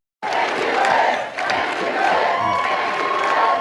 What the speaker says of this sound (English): That proclamation spurred a chant of approval from the crowd.